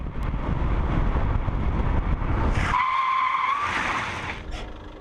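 A car brakes hard to a full stop, tyres letting out a loud, sustained squeal for about a second after the engine rumble cuts out, then a short fading scrape.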